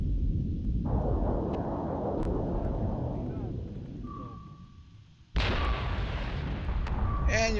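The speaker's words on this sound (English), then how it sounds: "And your flak takes down my missiles" Flak fire bringing down missiles in a naval combat video game: a dense, continuous rumble of booms and bursts, dipping briefly before a sharp loud burst resumes, with small pops and whistling tones scattered over it.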